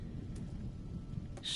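Thunderstorm in the game Diablo 4: a steady low rumble of rolling thunder and rain runs throughout at moderate level, with a brighter crackling burst near the end.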